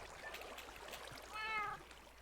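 A cat in a Minecraft creeper farm lets out a clear meow near the middle, fairly close, over faint trickling water ambience.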